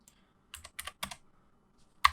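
Keys tap on a computer keyboard in short bursts of clicks, close and fairly quiet, with a brief pause before a final sharper keystroke; no one speaks.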